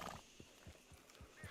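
A horse in the open-world western game Red Dead Online whinnies briefly at the start, followed by steady clip-clop hoofbeats in an even rhythm under a constant wash of ambient game noise.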